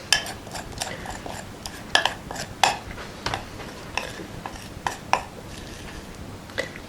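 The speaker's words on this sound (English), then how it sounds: "get the back of your spoon and then you're spreading that lovely chocolatey mixture all over the top of your biscuit base" A spoon clinks and scrapes against a bowl and tin while chocolate mixture is spread over a biscuit base, with irregular close taps and scrapes and no voices.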